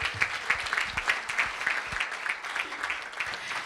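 Church congregation clapping and cheering after a baptism celebration, a dense burst of applause with a few voices mixed in, fairly close and steady throughout.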